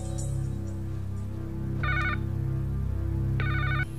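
A telephone rings in an action film, two bursts of trilling electronic ringing over a steady low background hum, loud and close.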